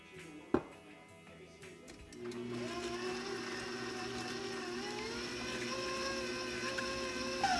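An electric mixer whirs into action to beat an egg into banana bread batter, a single knock coming first, then a steady, mid-loud motor whine with a slight rising pitch that runs on unbroken.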